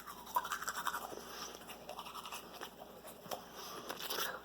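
Teeth are brushed with a toothbrush and toothpaste, a quiet, rapid bristly scrubbing with irregular strokes, close and faint, with no talking.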